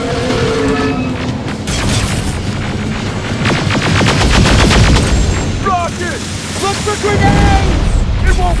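Loud, rapid automatic gunfire and booming impacts fill a firefight in Terminator Resistance, with sustained bursts running nearly continuously and shouted voices mixed in.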